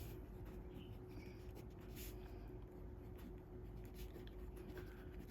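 A pen scratches steadily across paper while solving a maths problem, faint and close, with short strokes in an irregular rhythm over a low steady hum.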